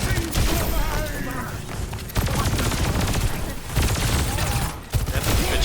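Sojourn's gunshots in the Overwatch video game, dense loud rapid-fire bursts in continuous volleys broken by short gaps, with busy match noise behind.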